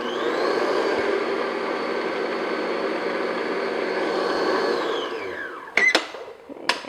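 An electric mixer whirs steadily while beating vanilla extract into chocolate sponge cake batter, running for about five seconds before winding down, followed by a couple of sharp clunks.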